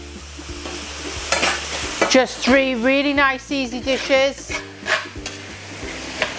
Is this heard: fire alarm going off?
no